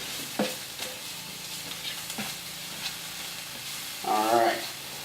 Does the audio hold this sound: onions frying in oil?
yes